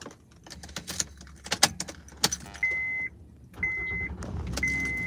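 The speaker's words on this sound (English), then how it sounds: "I hope this car is not too loud" Interior of a car with keys jangling in sharp clicks and rattles, followed by steady chimes or beeps in repeated stretches against a low engine hum, all close and with no talking.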